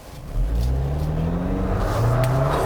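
A turbocharged four-cylinder 2019 Jeep Wrangler with mild electrification accelerates hard, its engine note climbing steadily in pitch through a gear, heard from inside the cabin with no talking.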